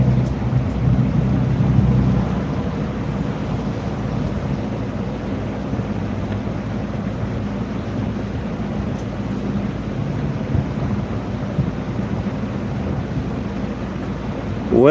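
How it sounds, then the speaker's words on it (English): A steady gust of wind blows through an open window, a continuous, fairly loud low rush with buffeting. It holds constant throughout with no voices. "I'm feeling a breeze in the window"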